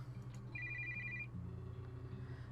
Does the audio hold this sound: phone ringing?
yes